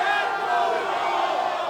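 Large stadium crowd roaring and cheering around the ring at a lucha libre wrestling event in Mexico City, a steady, dense wash of voices that holds at the same level throughout.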